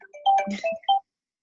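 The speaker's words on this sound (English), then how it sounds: "1 second, Jessica's ringing me." A short electronic phone ringtone plays a quick melodic jingle of a few bright notes, then cuts off into silence.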